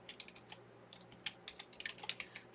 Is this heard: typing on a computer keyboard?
yes